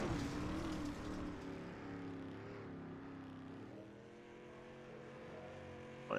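Street stock race cars in iRacing, a field of about twenty engines droning and shifting pitch together at a distance, faint and steady, with no talk.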